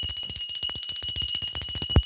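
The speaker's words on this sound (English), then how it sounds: "Hold on, I gotta ring the bell." A bell is rung rapidly and repeatedly, a close, bright ringing with steady sustained tones under quick metallic strikes, ending in a single heavier stroke.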